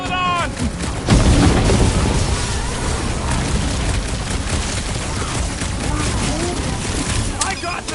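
Explosions and heavy blasts fill a Guardians of the Galaxy video game battle, with a loud boom near the one-second mark, continuous rumbling and crackling after it, and voices talking over the din.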